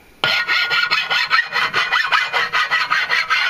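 A hand file rasps back and forth across a carbon steel shovel in steady rhythmic strokes, loud and close, with no voices.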